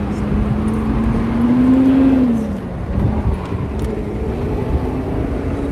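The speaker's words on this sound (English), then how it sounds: "Let the truck go by." Truck driving past at a roadside gathering by the border in Del Rio, Texas, its engine tone rising as it nears and peaks, then fading away, close and loud with steady outdoor noise behind.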